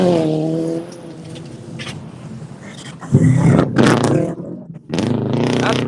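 Rally car at a North East Pennsylvania rally sprint roaring past with a loud engine note that rises and changes pitch, then surges again as it speeds away.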